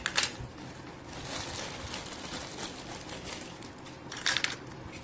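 A set of kitchen knives handled together, with metallic clinks and rattles at the start and near the end over a steady hiss of background noise.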